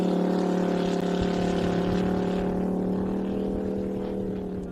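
Offshore superboats racing on Lake Macquarie at an Australian championship round, engines roaring in a loud, steady drone that holds for several seconds and fades slightly toward the end, with no voices.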